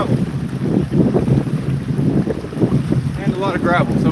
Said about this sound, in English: The wind is kicking. The wind's starting to kick.